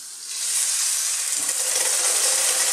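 Thick cooking cream poured into a hot pan for a fish cream sauce gives a loud, steady hiss and sizzle that starts abruptly and holds on without talking.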